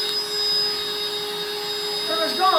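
A vacuum cleaner runs steadily with a loud, constant whine and strong tonal hum, with a brief change in pitch near the end.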